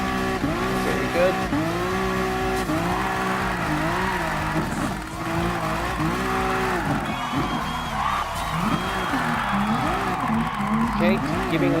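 A Honda NSX Gr.4 race car drifts in Gran Turismo Sport, with a continuous engine roar and rising and falling tire squeal through repeated slides. The car stays loud and close throughout.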